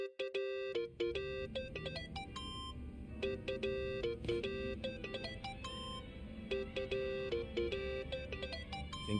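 A mobile phone ringtone goes off in the video game Yakuza: Like a Dragon, a bright, loud melodic tune of repeated beeping notes that plays continuously over a low game background.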